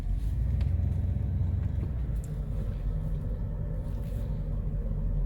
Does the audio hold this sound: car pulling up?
yes